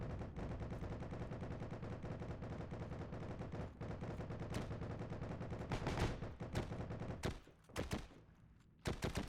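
Rapid gunfire bursts from weapons in the online war shooter Heroes & Generals, dense loud volleys running continuously, then breaking into a few sharp separate shots near the end.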